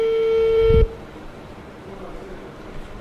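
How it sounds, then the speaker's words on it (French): A telephone on a call line gives a steady electronic ringing tone that holds for under a second, then cuts off and leaves quiet room noise. "heureusement, le téléphone sonne quand même"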